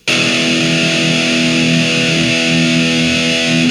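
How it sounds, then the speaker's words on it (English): One loud, sustained distorted electric guitar open E note rings out steadily for a few seconds with a thick, buzzing tone. "we're just going to hit an open E at the very end"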